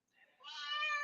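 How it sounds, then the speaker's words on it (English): A phone ringtone plays a single cat meow, rising from a soft start into a clear, drawn-out tonal cry that stays faint and close. "Yes, I have a cat ringtone."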